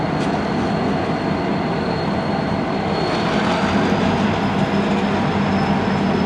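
A Union Pacific freight train rolls through the Denver North rail yard with a loud, steady rumble and grinding wheel noise, a faint high squeal running above it throughout.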